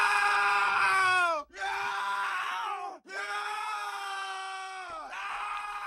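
Several men scream loudly in long, wavering cries that break off twice briefly before resuming, with no other sounds beneath them.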